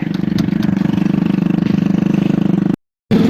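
A parked motorcycle's engine idling steadily with a rapid even putter, then cutting out briefly before running again, close and fairly loud.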